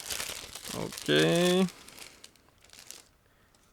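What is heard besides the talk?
opening a resealable plastic bag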